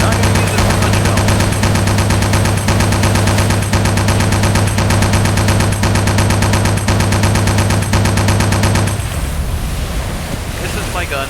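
A .50 caliber machine gun firing from a submarine in Silent Hunter 4: loud, dense rapid bursts over steady wave and wind noise, with the firing stopping near the end so only the sea noise remains.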